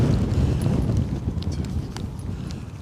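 Strong storm wind gusting at Newcastle Airport during Storm Darragh, a steady loud low roar with buffeting microphone rumble throughout and no speech.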